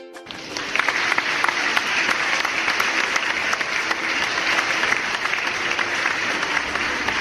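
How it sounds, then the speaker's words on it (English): A round of applause from a group fills the clip, a dense, even patter of many hands clapping at steady strength with no voices over it. "give yourself a round of applause."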